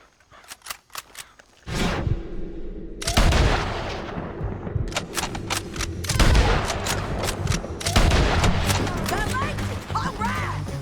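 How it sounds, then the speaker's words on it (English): Gunfire in the Red Dead Redemption 2 video game, with repeated sharp shots and overlapping bursts ringing out over a dense, noisy battle background. "Let's just start shooting"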